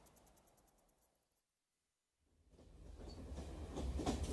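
A passenger train runs along the rails, at first quiet with faint rhythmic clicking, then a brief silence, then a swelling rumble and clatter that grows steadily louder and close by.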